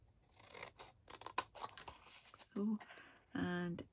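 Paper or cardstock is cut with scissors, several crisp snipping strokes in short bursts, then two longer, louder cuts near the end, close and clear with no talk.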